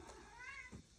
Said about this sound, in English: sorry about my cat